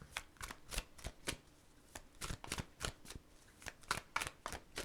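A deck of tarot cards is shuffled by hand in a steady run of quick, crisp riffling bursts, close and clear with no talking.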